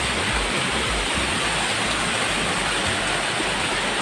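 A waterfall at a picnic spot in Kurudkute, Deogarh pours into a pool with force, a dense, continuous roar of rushing water, loud and unbroken.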